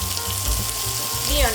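Pepper hits a hot frying pan already cooking for creamy garlic butter chicken, giving a short burst of close, busy sizzling with a few soft thuds and clatters.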